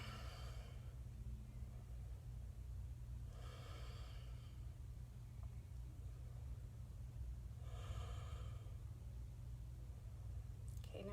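During a yoga pose, slow, deep breaths come in three long airy swells, each lasting about a second and spaced several seconds apart. They are faint against a steady low room hum, with no talking.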